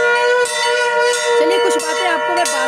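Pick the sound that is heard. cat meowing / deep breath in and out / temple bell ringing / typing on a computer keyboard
temple bell ringing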